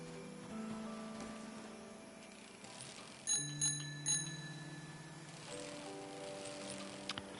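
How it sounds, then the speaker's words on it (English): A bicycle bell in the video game Season: A Letter to the Future rings three times in quick succession, clear and fairly close, over quiet ambient music. "if you jump on a bike with a bell like that, who's not ringing a bell?"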